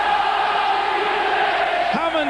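Rugby league crowd at a St Helens versus London Broncos match roaring and cheering continuously, a loud dense wall of voices with a commentator talking over it.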